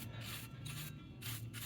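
Paintbrush gently sweeping loose dirt off the metal chassis of a California-built Gilfillan Bros radio, a soft steady bristle rubbing in close repeated strokes with a low hum underneath.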